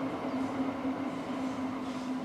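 A train runs on a reopened rail line, a steady rolling rumble with a sustained low tonal hum, heard continuously at moderate distance with no voices.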